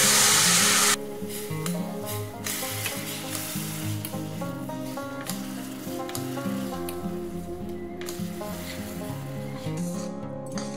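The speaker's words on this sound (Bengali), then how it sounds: "এবার আমি গুড়টা রেডি করে নেব। তো তার জন্য আমি একটু জল দিচ্ছি" Jaggery melts with about two spoons of water in a hot pan, a loud burst of sizzling at the start that settles into steady bubbling and stirring close up, with no talk.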